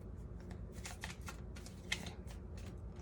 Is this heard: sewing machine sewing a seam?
no